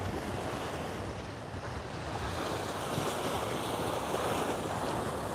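Ocean surf washes onto rocks along a Hawaiian shoreline, a continuous broad rushing roar that swells slightly toward the end, with wind buffeting the microphone.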